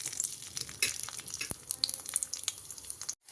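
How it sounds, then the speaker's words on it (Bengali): Crushed garlic fries in mustard oil in a wok with a steady, close sizzle and crackle, dotted with sharp little pops, then cuts off briefly at the end. "পরিমাণ মতো তেল দেব, দিয়ে যে রসুনগুলো থেতো করে রেখেছি সেই রসুনগুলো কিন্তু আমি ছেড়ে দেব"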